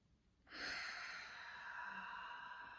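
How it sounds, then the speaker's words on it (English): A slow deep belly breath during a voice therapy exercise: one soft, airy, sustained breath beginning after a brief quiet moment and holding steady, close and faint, with no talking. "Place a hand on your belly and we're going to breathe into the belly."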